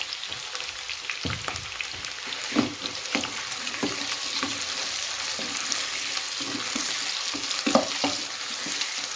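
Potato sticks, cut like finger chips, frying in oil in a pan for an aloo baingan dish, with a steady sizzle and scattered crackling pops over about nine seconds and no voices.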